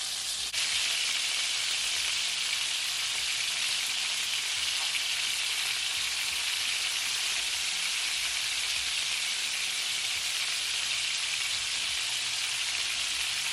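Turkey neck frying in a pot of hot oil on a stove, a steady, loud, unbroken sizzle with dense crackling that holds constant from start to finish, with no voices over it.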